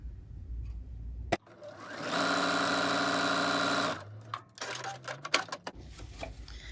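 A sewing machine stitches fabric strips together for a reusable coffee cup sleeve, running in one steady, buzzing whir of about two seconds. Scattered clicks and handling noises come before and after the run.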